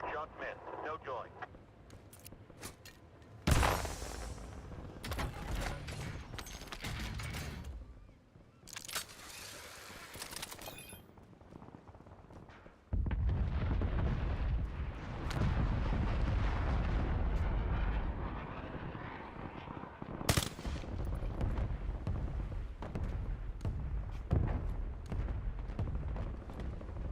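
Close air support strike in a military shooter video game, with heavy gunfire bursts and booming explosions rolling over sustained loud battle noise, while a voice talks throughout.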